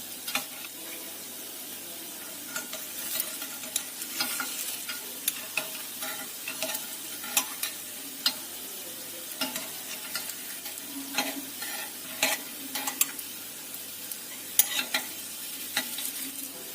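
Market-snack dough toasting in a pan until golden brown, giving a steady close sizzle with soft frying crackle and scattered small clicks and scrapes as it is turned, no voices.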